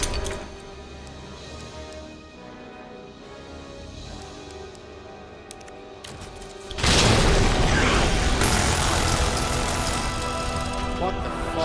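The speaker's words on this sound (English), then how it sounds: "Grenade." A grenade blows up in Resident Evil 2 Remake, a sudden loud boom partway through that leaves a dense rumbling, crackling tail over steady game background noise.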